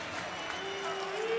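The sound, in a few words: volleyball crowd applauding a player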